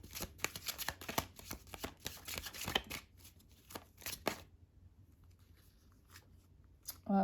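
Tarot cards shuffled by hand, a quick run of crisp riffling flicks up close that stops partway, followed by near silence and a faint soft rustle.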